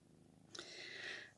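A kitten purrs softly and close for about a second, a brief rough breathy rumble that starts partway in and stays faint.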